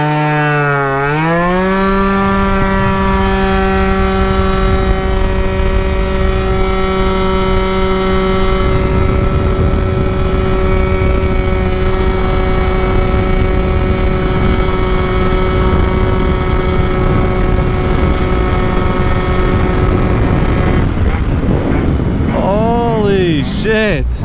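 A modified Yamaha Jog scooter engine screams at top speed, a steady high-pitched drone with strong harmonics that climbs quickly at the start, holds level, then wavers and falls near the end, with wind rush throughout.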